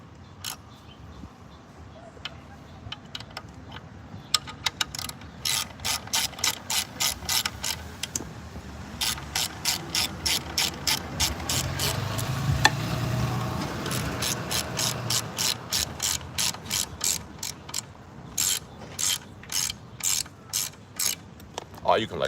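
A ratchet tightens the brake pads on an InMotion RS electric scooter, clicking in long quick bursts of even strokes with brief pauses between, close and steady, with low background noise and no talk.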